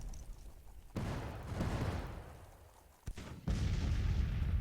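Civil War artillery cannons in a strategy game fire in heavy, booming volleys, with a sharp blast followed by rolling rumble, then a second cluster of shots giving way to sustained, dense gunfire.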